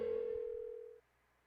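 A steady electronic phone tone in Persona 4 Golden plays for about a second during an unanswered call, then cuts off abruptly to near silence.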